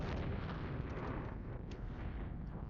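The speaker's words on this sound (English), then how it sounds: "the artillery is working on our headquarters in the rear over there" Artillery explosions rumble in the Flashpoint Campaigns war game, a dense, continuous low roar of distant shelling with a few faint bursts rising from it.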